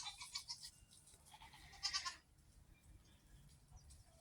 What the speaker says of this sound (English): I thought y'all'd like some goat footage